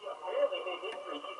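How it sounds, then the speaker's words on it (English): Old radio tuned to a station, a band-limited broadcast voice crackling through static, close and moderately loud for a brief moment. "Now we've got a station turned in, complete with static"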